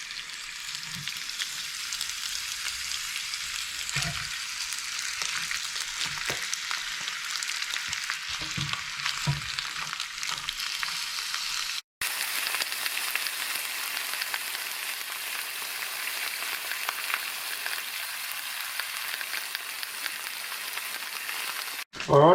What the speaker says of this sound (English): my bones have been just cooking away there on a sort of medium temperature for a while now